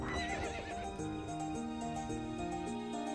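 A horse in the To the Moon video game neighs loudly over bright, tuneful game music, the whinny rising then trailing off while a steady melody continues.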